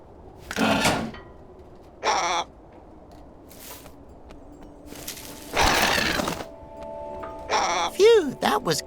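A crow caws in the video game The Inner World, a few short, harsh calls among game sound effects, with a character speaking between them.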